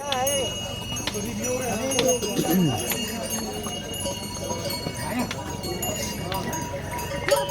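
Horse hooves clip-clop at a mountain pilgrimage route's horse stand in cold weather, irregular steps moving on a path amid crowd bustle and someone talking nearby.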